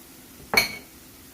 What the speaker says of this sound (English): Add in your chopped tomatoes